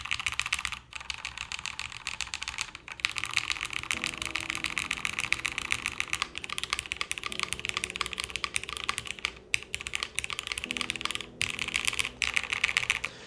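A mechanical keyboard with linear switches, built with no plate, is typed on in a fast, continuous stream of close, even keystrokes with a few brief pauses.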